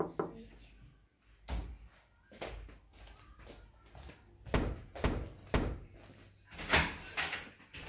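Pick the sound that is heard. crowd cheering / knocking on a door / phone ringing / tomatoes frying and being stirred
knocking on a door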